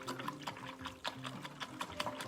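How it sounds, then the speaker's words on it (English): A paintbrush swished and rinsed in a water container, faint repeated sloshing and tapping strokes in an irregular rhythm, close and quiet with no talking. "I need to go ahead and rinse this out"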